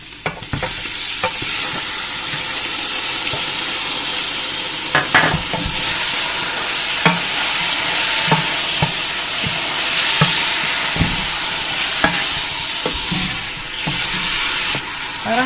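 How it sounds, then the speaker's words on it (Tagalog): Beef sizzles and fries in a pan with garlic that has already browned, a steady loud crackle and hiss heard up close, broken by frequent scraping and knocking of a utensil as the meat is stirred. "Parang ipiperito ko muna siya na ganyan hanggang sa mag-brown bago ko siya takpan."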